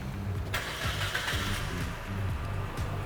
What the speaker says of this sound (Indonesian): Yang pertama kita hidupin mesin.